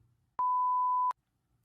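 A function generator app on a smartphone sends a steady pure tone through the headphone jack, sounding loud and clean for under a second, with sharp clicks at its start and end.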